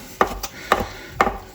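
A knife cutting drained mushrooms on a board, three pairs of crisp, close chops at a steady rhythm with no talking.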